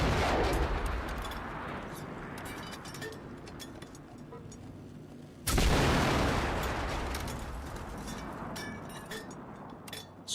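Gunfire in a machine apocalypse survival first-person shooter game, dense bursts of rapid shots that thin out, then a sudden loud volley kicks in halfway and continues with scattered cracks.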